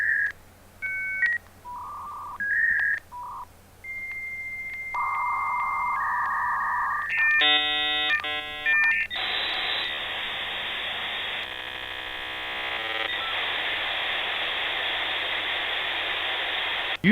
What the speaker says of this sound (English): the 56K Earthlink modem sings you the song of its people